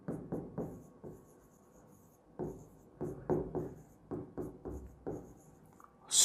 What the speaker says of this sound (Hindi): मैं यहां पर एग्जांपल लिख देता हूं।